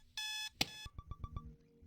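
An alarm clock rings in the video game Butterfly Soup: a sustained electronic tone, then a sharp hit and a string of about five quick beeps, with no talking.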